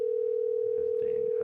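A steady telephone dial tone hums continuously and evenly at moderate loudness, with faint background murmur underneath and no break in the tone.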